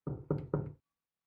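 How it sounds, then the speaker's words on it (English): Three firm knocks on a door in a video game, evenly spaced and fairly close, each a dull thud with a short ring, followed by silence. "You knock again, a bit louder this time."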